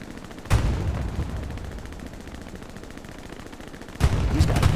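Machine gun fire in the World War II shooter game Hell Let Loose, two sharp onsets each leading into sustained dense automatic bursts with a rumbling battlefield din between, loud and continuous.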